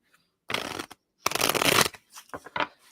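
Tarot cards being shuffled by hand, two long riffling bursts followed by a few shorter quick flicks, close and clear with no talking.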